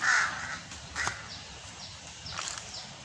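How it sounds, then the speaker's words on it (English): Crows caw among old hardwood trees, a few harsh calls at a moderate distance over a quiet outdoor background, with no voices. "Oh, the crows love these old trees, eh?"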